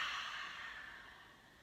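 Slow breath exhaled through the mouth during a yoga practice, a soft airy whoosh that fades steadily over under two seconds, close and quiet.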